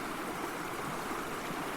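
River water rushes steadily around boulders in a continuous, even broadband roar, close and unbroken, with no voices.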